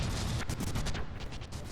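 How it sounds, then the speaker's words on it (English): A big cannon in the game From the Depths fires off a rapid cluster of booming shell blasts, loud and dense, one crashing onto the next across the whole short burst. "we can slag a couple of rounds at a marauder here with a big cannon"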